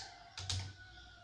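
Keystrokes on a computer keyboard while entering Arduino switch-case code, a brief cluster of clicks near the middle over a steady background hum, with no talking.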